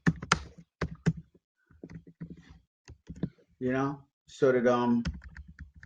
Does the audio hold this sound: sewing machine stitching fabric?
no